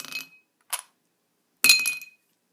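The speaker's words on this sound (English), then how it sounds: "And 2 whiskey stones into number 3." Whiskey stones dropped into a glass, three bright clinks of stone striking glass, the last a longer rattling clatter, close and crisp against silence.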